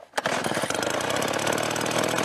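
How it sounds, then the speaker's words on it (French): A motorized blower kicks on during the hazelnut harvest in an organic Cervione orchard, starting with a sharp jolt and settling into a loud, steady, buzzing engine drone with no talking. "Mets un peu à marcher le souffleur"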